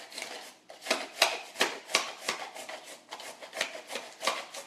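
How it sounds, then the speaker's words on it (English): Carrots being shredded on a grater over a flexible cutting mat, a quick series of rhythmic rasping scrapes, close and fairly loud, with no talking. "Put those carrots in there and then use this piece to press down. And we're just going to grate our carrots."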